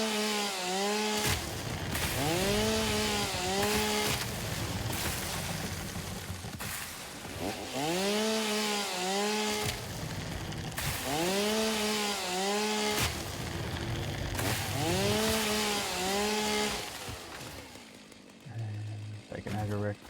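A chainsaw in the video game Satisfactory cutting wood, its engine revving repeatedly in loud rising and falling bursts, with steady grinding between the cuts and talk over it.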